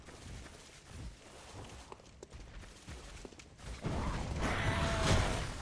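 A heavy door mechanism grinding and creaking open in the video game Bloodborne, a rumbling, scraping sound that builds louder over several seconds, with game ambience and no talking.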